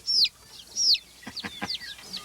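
A small chick, Poussin, gives two clear high-pitched peeps close by, followed by a run of softer, quicker chirps and clucky sounds.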